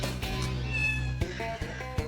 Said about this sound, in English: so does the caterwauling